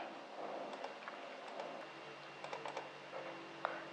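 Typing on a computer keyboard, soft scattered keystrokes in small bursts, quiet and close over a steady background hiss.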